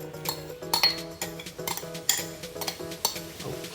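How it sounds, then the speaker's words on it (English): Utensil stirring glutinous rice with sweet potato and taro in a pot for binignit, with repeated scraping and clinking strokes against the pot, close and moderately loud, backed by steady music. "Give it a bit of stir so they cook all together"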